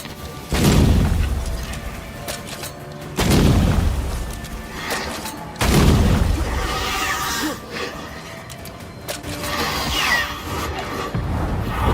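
Gunshots from the video game Banishers: Ghosts of New Eden: three loud, booming shots spaced a few seconds apart, each with a long rumbling decay, followed by quieter scraping and rustling.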